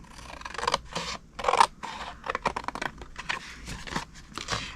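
Scissors snip through cardstock for a Halloween witch-finger flinger box, cutting to the second score line in a series of irregular, close, crisp bursts with short pauses between them.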